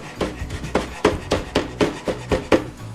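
A knife chops a scotch bonnet pepper on a board with about a dozen quick, evenly spaced taps in a steady rhythm, close and distinct.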